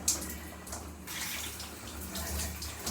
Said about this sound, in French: je tourne l'eau à l'eau froide